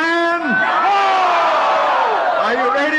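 A crowd at a Chinese New Year open house in Penang bellows back in unison, a loud drawn-out collective shout swelling and falling over about three seconds.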